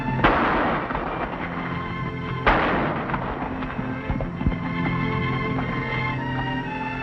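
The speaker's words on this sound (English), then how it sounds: "That's very good shooting, Pancho." Two sharp gunshots ring out in an old Western, the first near the start and the second a couple of seconds later, each cracking loudly and then trailing off, over a steady musical background.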